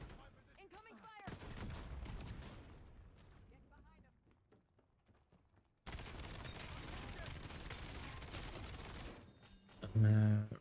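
Gunfire in the Black Ops 7 video game comes in heavy bursts, first sharp and crackling, then fading to sparse shots, before a long, dense barrage of rapid fire; voices talk throughout.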